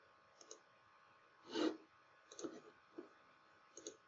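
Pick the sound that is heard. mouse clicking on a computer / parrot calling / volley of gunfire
mouse clicking on a computer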